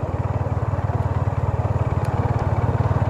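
A motorcycle on an off-road forest ride among sal trees, its engine chugging loud and close with a fast, even pulsing rhythm throughout and no talk.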